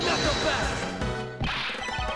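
A hallway mirror wall shatters in the Ace Attorney Investigations video game: a loud glass crash that rings and scatters, then a second sharp impact with bright tinkling debris.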